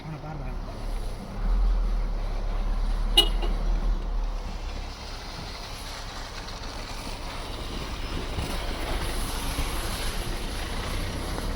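An army vehicle rumbles past on the snowy mountain road at Bumla Pass in Arunachal Pradesh, a low engine drone that swells and fades, heard from inside a waiting Mahindra Scorpio N while people talk.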